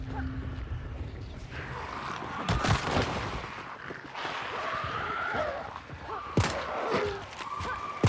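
Gunshots ring out in a swampy Hunt: Showdown match as a couple of sharp cracks spaced seconds apart over a steady murky ambient bed, moderately distant and not very loud.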